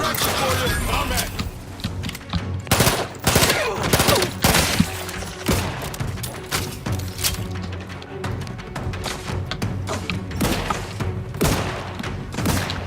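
Bursts of gunfire in The Outer Worlds 2, sharp repeated shots and impacts cracking in irregular clusters over a busy combat soundscape, with voices talking in between.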